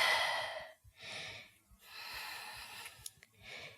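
Slow, deep breaths during a vinyasa yoga flow, close and audible, with long airy inhales and exhales separated by short quiet gaps, about four breath cycles.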